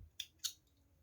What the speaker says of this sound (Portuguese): E agora, eu vou cortar